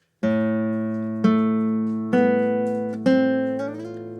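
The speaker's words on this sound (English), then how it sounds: "we're going to start off with this open bass note A" A guitar's open A bass string is plucked and left ringing as a whole note through a full measure. Clear sustained harmonic tones decay slowly, with a few further plucked notes entering partway through, close and alone without any voice.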